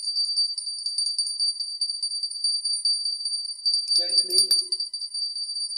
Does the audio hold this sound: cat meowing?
no